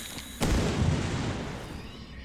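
A single sudden blast goes off in the survival horror game Darkwood, a hard thump after a quiet moment that rolls into a long fading rumble and hiss.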